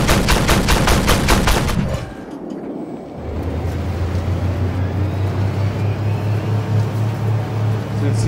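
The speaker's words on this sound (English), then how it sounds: "So you can see this tank here fires a belt of rounds" In the Armored Warfare game, a tank fires a belt of rounds as a loud rapid burst, followed by a brief lull and a sustained low engine rumble.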